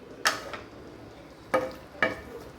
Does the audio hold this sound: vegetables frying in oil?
yes